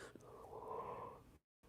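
A single drawn-out human yawn, a breathy, wheezy exhale rising and fading over about a second before a brief silence, quiet and close.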